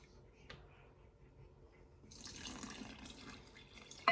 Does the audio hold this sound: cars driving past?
no